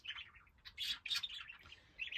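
Pet birds kept in a home room chirp and tweet in quick, bright bursts, several overlapping calls close by but quiet, with no one talking.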